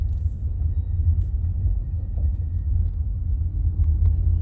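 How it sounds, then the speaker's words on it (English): A customer's car rolls past outside during a leaf cleanup, giving a steady low rumble of engine and tires that holds at an even level throughout, with no voices. "Customer just drove by."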